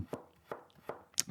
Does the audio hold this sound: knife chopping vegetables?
yes